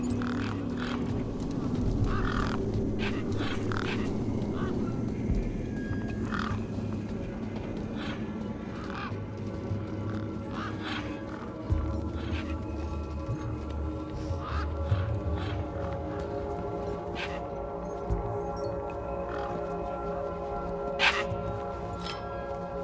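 Desert birds in the video game Beyond a Steel Sky caw steadily, with sharp calls scattered over a constant low ambient hum and distant town noise.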